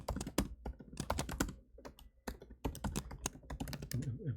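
Rapid, uneven clacking of keys on a computer keyboard, close and steady with brief pauses between bursts, no voices.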